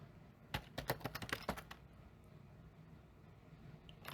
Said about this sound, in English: type in the password winter